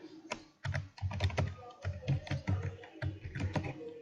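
Close, clicky computer keyboard typing as a business description is entered into an online tax filing form, with quick bursts of keystrokes broken by brief gaps.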